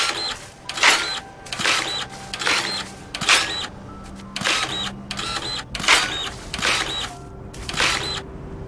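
A soil printer running in the video game Dinkum, giving a rhythmic series of mechanical bursts, roughly one every half to one second, each a clattering whir with tonal beeps, fairly close and clear.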